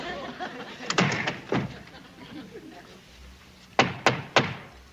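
A fist pounds on the door hatch of a military duty hut, two rounds of loud, close thuds, a few hits early on and then three sharp knocks in quick succession, with a lower room rumble between them.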